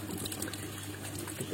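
Water trickling and flowing steadily through an aquaponic grow bed planted with ginger, a soft continuous dribble under a low steady hum, fairly quiet and without talk.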